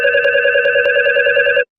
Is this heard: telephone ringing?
yes